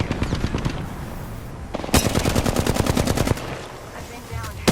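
Automatic gunfire from enemies in The Walking Dead video game, loud rapid bursts of shots that swell into a dense sustained volley, with game sounds around it.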